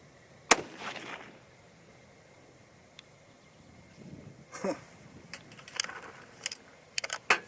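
Sharp cracks from a 6.5 Creedmoor rifle firing 100-grain bullets at an outdoor range, one strong close report followed by several scattered sharper impacts and clicks later on, with quieter gaps between.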